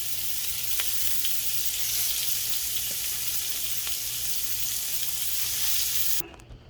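Shrimp fry in a hot pan over medium-high heat for New Orleans style BBQ shrimp, giving a loud, continuous hiss with occasional pops and a low hum beneath, cutting off abruptly near the end.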